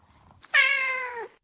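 A cat gives one clear, drawn-out meow lasting under a second, close and fairly loud, after a brief soft rustle, with no voices.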